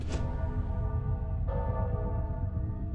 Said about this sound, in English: That's supposed to be the bell.